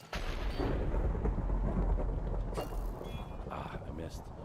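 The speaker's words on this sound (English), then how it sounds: "The lightning storm's gonna be over." Thunder rumbling from a lightning storm in a Minecraft world, a loud sustained low roar across the whole stretch, with a sharper crack partway through and a voice talking over it.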